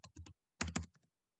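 Someone types a first name on a computer keyboard in two short, quiet bursts of quick clicky keystrokes separated by a brief pause, close-up and alone.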